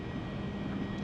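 Twin jet engines of a Skywest Embraer E-175 in X-Plane 11, throttles pushed to about 95% takeoff power, a steady, loud, dense roar that holds constant for a brief moment with no talking.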